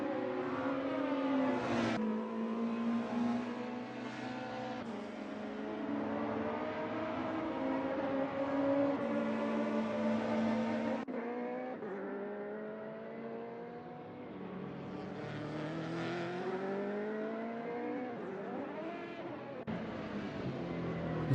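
Race car engines in a sim racing video game touring car event at Donington, with several cars revving up and down through gear changes, engine tones rising and falling in a steady, moderately loud drone.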